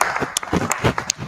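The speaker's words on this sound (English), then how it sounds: "that was a big cheer, and it needs to be" A church service congregation lets out a short burst of cheering and clapping, bright and lively with scattered claps and whoops filling the room for a moment.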